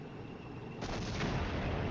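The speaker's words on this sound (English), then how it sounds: "So the artillery is beginning to fall on where we think" Artillery fire in the Cold War wargame Flashpoint Campaigns lands as a sudden muffled blast partway through. A rumbling, crackling roar follows, with no voices.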